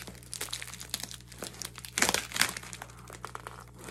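A taped cardboard package being cut open for a yarn swap unboxing, close crinkling and tearing of tape with a louder ripping burst in the middle.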